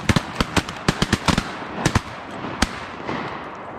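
Shotgun blasts during an opening-day duck hunt in Virginia: a rapid volley of sharp, loud reports, several in quick succession, then a few more spaced shots and one final bang before fading into outdoor ambience.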